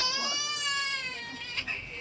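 A baby cries during a Malay-language religious lecture at a prayer hall, a sustained high wailing cry with a sharp catch near the end, moderately close and loud over faint room sound.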